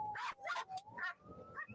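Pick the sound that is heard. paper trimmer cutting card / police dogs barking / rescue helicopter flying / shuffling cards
police dogs barking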